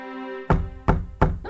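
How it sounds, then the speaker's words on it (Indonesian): Three firm knocks on a bedroom door in a palace, evenly spaced and close, sounding after a sustained tone. "Seorang pelayan datang mengetuk pintu kamar Putri Daisy"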